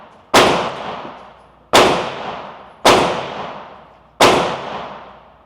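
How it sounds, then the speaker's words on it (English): Four loud, sharp gunshots from other shooters at an indoor shooting range, spaced roughly a second apart, each with a long reverberant decay filling the enclosed room; no talking. "because you can't really record in here because everybody be shooting"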